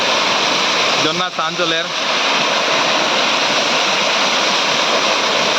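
A waterfall in Hailakandi roars with a steady, loud wash of rushing water that never lets up, and a person speaks briefly over it near the start.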